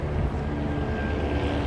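Low, steady engine drone of a helicopter passing overhead at night, a continuous rotor hum fairly near with no other sounds over it.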